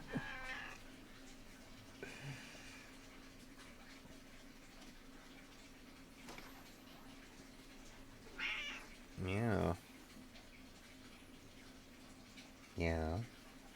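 A cat gives a few short, close meows, spaced apart over low room noise, with faint running water and quiet talk between the calls.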